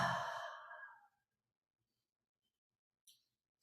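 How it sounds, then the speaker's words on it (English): A single slow breath, likely an exhale, sounds close and soft during kundalini yoga breathing practice, fading into silence with a faint short noise near the end. "Inhale. And exhale."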